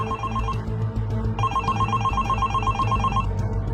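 A mobile phone rings with an incoming call from a husband, a repeating electronic ringtone pattern that pauses briefly then resumes, loud and close over a low background hum.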